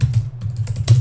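Quick typing on a computer keyboard while entering text into a Dreamweaver web page, a close run of crisp key clicks with no voice.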